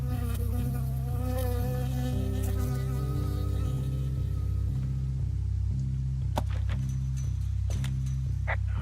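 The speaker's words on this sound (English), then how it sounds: "I got stung by a bee." Bee buzzing in the video game Firewatch, a steady close drone over a rhythmic low pulsing backdrop, with a few sharp clicks toward the end.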